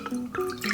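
Water is poured into a container while a homemade photo developer is mixed, a steady trickling, splashing pour close by with no talking.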